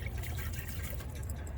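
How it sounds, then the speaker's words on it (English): Dehumidifier water pours and trickles into a cup inside a BMW car camper, a short, close, steady splashing stream. "So that's dehumidified water that I just drink straight from the dehumidifier."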